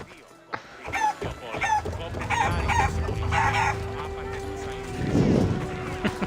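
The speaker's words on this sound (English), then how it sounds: "Kick the chicken." Chickens clucking and crowing in the video game Assassin's Creed Odyssey, mixed with in-game sounds and speech, with a louder burst of activity near the end.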